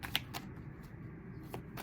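Tarot cards drawn from a pre-shuffled deck for a reading, a few soft, crisp card flicks and slides, close and quiet with short pauses between them.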